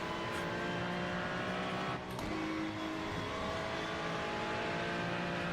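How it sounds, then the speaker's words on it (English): Ferrari GT3 race car in the iRacing sim at Road Atlanta, a sustained engine drone with shifting harmonic pitch and a brief dip around a gear change, steady and moderately loud, no speech. "All right, trying the Ferrari out here."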